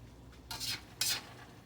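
Opo and beef stir fry cooking in a wok, with two short, close scraping strokes of a utensil across the pan about half a second apart over a faint background hiss.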